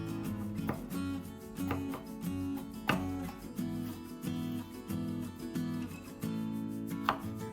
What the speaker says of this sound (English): Capsicum is also cut into long thin strips.